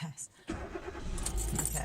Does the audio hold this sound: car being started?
yes